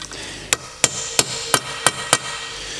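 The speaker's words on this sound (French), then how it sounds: "Je viens tapoter tout doucement" Six light, crisp metal taps land at a steady, even pace during repair work on a broken-chain BMW N47 diesel engine from a 318d F30. Each tap is close and sharp and rings briefly over a quiet workshop background.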